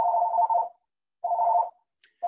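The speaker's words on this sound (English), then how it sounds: "Great timing for the home phone to ring." A home landline telephone rings in repeated tonal bursts, each about half a second long, with short pauses between them. It sounds moderately loud and fairly close, with no talking over it.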